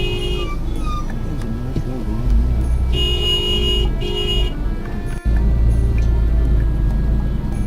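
Busy road traffic in India, with car engines rumbling throughout and several bright horn toots blaring at intervals, one long sustained honk in the middle, and a voice talking faintly underneath.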